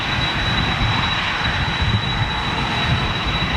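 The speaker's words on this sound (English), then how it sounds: "But listen to this 747." Boeing 747 jet at Manchester Airport, a loud sustained engine roar with a thin steady high whine running through it.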